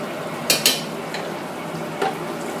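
Butter melts in a saucepan with oil, a soft steady sizzle with a few light clinks of a utensil against the pan.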